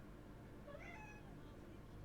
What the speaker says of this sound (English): my cat's screaming in the background